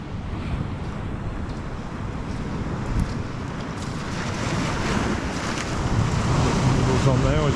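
Sea waves wash continuously along the shore on a sea bass fishing trip, a loud, steady surf roar mixed with wind buffeting the microphone and swelling slightly toward the end, with no clear talking.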